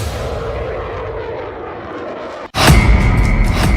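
Roaring aircraft noise as an Indian Air Force fighter jet flies, a broad steady rumble that cuts out briefly and then returns louder and closer.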